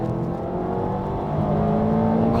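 Small-engined cars of under 150 hp launch together at the start of a mountain touge race, their engines droning loudly and steadily as they climb in pitch under hard acceleration.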